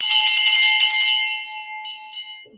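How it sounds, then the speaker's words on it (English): A bright handbell rings out loud and close to celebrate a closed real estate wholesale deal, shaking rapidly for about a second, then its ring decays, followed by two fainter taps. "We haven't rang the bell nearly enough today."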